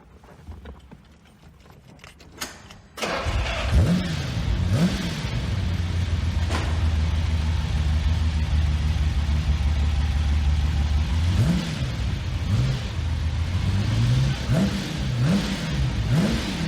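A Lamborghini engine revs hard from a standstill after a quiet opening, then holds a loud, steady roar with repeated rising and falling rev swings near the end.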